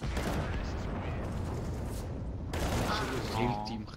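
Dense, rapid gunfire crackles in a first-person shooter with M4 rifles. Shots and bursts run continuously under a player's voice.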